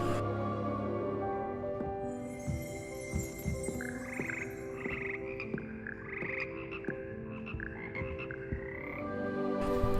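A choir of magical frogs in the video game Hogwarts Legacy, croaking steadily in layered, musical tones through a choir practice classroom alongside soft background music, with no voices.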